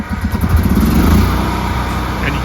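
A Generac standby generator starting up by itself during a power outage, its engine cranking and catching into a loud, close, rough rumbling run that settles into a steady drone.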